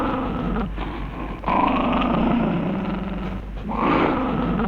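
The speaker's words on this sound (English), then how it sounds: "And they overdub some growling" Growling and roaring overdubbed onto a dog in the 1980 martial arts film Challenge of the Tiger, a continuous rumbling snarl that swells twice and sits loud and close throughout.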